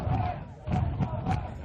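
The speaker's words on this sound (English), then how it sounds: "The cheer of Let's Go Rams has sprung up right below us." A crowd of soccer fans at a high school state championship match chanting "Let's Go Rams" in a rhythmic, rising and falling group cheer, heard from just above the stands.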